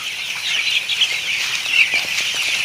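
A dense, steady chorus of young chicks peeping on a poultry farm shed, many birds calling at once close by, with no talk over it.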